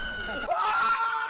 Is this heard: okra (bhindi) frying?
no